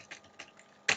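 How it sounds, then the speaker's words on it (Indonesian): A single key strike on a computer keyboard closes the moment, a sharp click after a few softer, faint taps, with no talking. "Saya tekan enter."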